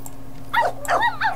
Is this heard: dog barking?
yes